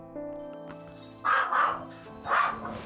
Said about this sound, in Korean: 답답해서인지 종일 짖는 사랑이